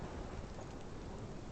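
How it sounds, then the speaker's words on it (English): A dense, steady hiss of heavy rain fills the scene during a storm in Life is Strange, with a low rumbling undertone suggesting distant thunder, constant and unbroken throughout. "This is my storm."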